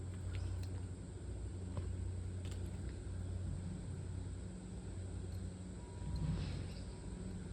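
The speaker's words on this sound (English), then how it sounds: "They're doing alterations, massive ones, so there's always trucks and things happening." Trucks at a building site across the road send a steady low rumble of idling and moving engines, distant and muffled, with faint clanks and small knocks over the continuous drone.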